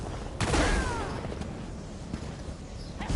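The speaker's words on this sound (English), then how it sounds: "Now you get the lightning!" Lightning attack in the video game The Elder Scrolls Online: a sudden loud crackling burst with a whooshing zap, then a rumbling, fading tail over continuous game noise.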